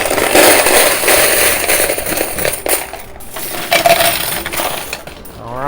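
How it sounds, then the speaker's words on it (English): Quarters clatter rapidly and repeatedly into a high-limit coin pusher arcade machine, a loud, dense stream of metallic clinks and rattles with no talk. "let's keep on rapid firing all these quarters in here"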